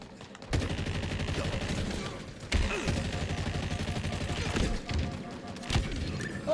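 Rapid gunfire in Halo Infinite, bursts of automatic shots in several runs separated by short pauses, loud and close with thumping impacts, and a voice speaking briefly between them.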